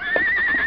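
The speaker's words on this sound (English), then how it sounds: "And the huge horse neighs softly, as though he had given it a lump of sugar." Huge cart horse giving a soft neigh in a farmyard, one short, gentle whinny with a thin sustained pitch, close and alone.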